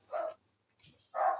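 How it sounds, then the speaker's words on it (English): Dogs at home bark at someone at the door, giving two loud close barks with a softer yip between them, separated by short silences. "Bear with me whilst my dogs go crazy"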